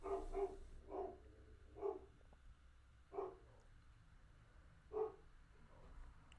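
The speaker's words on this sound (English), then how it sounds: "My dogs are going crazy." Several dogs barking indoors at a distance, a series of sharp, fairly faint barks in irregular bursts, some doubled, over low background hum.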